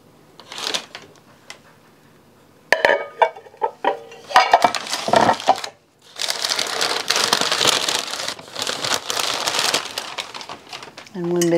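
A set of blue striped ceramic bowls is handled, producing scattered clinks and clattering knocks, some sharp and close, with a stretch of busier rattling and shuffling. A voice talks at times alongside the clatter.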